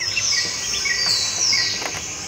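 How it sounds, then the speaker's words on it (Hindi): A small bird chirps outdoors just after rain, thin high tweets and short trills repeating over a faint insect hum, fairly close and alone without voices. "बारिश के समाप्त होते ही एक नन्ही चिड़िया ने कैमरे के साथ लुका छिपी का खेल खेला।"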